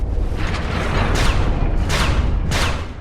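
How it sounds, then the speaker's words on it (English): Three poison darts shooting from a pressure-plate trap in Dark Souls, three sharp whooshing bursts spaced about seven tenths of a second apart over a loud, constant low rumble. "there's another one of those panels that will shoot 3 poison darts out when I step on it"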